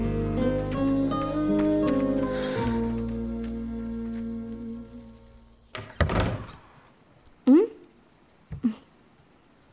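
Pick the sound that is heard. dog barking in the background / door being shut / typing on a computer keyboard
door being shut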